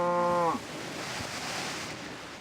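A Minecraft cow in a Tekkit game lets out a single clear moo at the start, lowing briefly before fading into a soft, steady ambient hiss.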